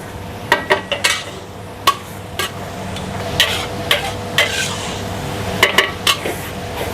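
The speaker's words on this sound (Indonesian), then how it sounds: "Ini kita aduk terus sampai si bawang-bawangannya wangi ya" Four kilos of onions and garlic fry in a large pan, stirred continuously with a utensil that clinks and scrapes sharply against the metal in irregular bursts over a low, steady sizzle.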